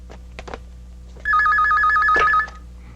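Rapid electronic trilling of a ringing telephone lasts about a second, loud and near, preceded by a few soft knocks and light room sounds.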